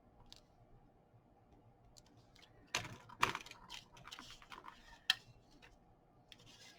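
A handheld hole punch bites through paper for a tabbed corner tuck: a few sharp, close clicks, two near each other and one later, over a quiet, faintly rustling background.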